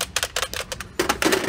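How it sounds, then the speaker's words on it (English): Sharp mechanical clacks and rattles from a typewriter being handled in a thrift store, arriving as rapid, uneven bursts up close. "Oh, it's a typewriter."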